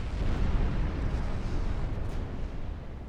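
A warship's flash fire blowing up in a naval battle game, a sustained deep rumbling explosion that roars loud and broad for several seconds with no talk over it.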